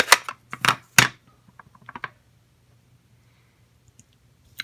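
A rubber stamp pressed onto paper during card making, a few dry taps and soft clicks close by, the loudest near the start, then scattered lighter knocks fading into quiet.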